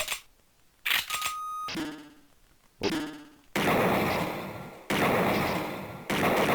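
Several loud, sharp gunshot bursts from the video game Snatcher, each a sudden blast with a ringing tail, spaced unevenly and played without any talk.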